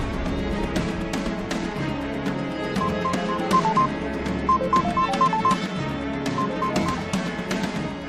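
A phone dials out to a caller named Lilet, and a series of short, repeated electronic tones and pulses sounds over a busy background.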